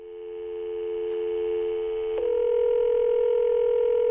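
A telephone line tone plays steadily, a sustained electronic hum that shifts to a slightly different, louder pitch partway through, clear and alone.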